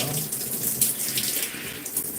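Water runs steadily from a tap while it is worked through hair during a wash, a continuous close splashing hiss with no talking.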